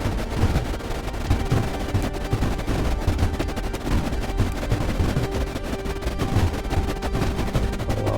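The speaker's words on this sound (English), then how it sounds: "Second set of guns to fire through there." Guns firing in the strategy game Creeper World IXE, a continuous dense patter of rapid shots and crackling impacts at steady loudness, with no voices.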